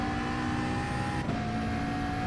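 A race car engine in Gran Turismo online racing drones at steady high revs, loud and close. It dips for a moment during a quick shift, then carries on with a continuous tonal whine and no voices.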